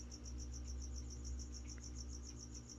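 A feeder cricket chirps in a fast, steady, evenly pulsed trill that carries faintly over a low background hum.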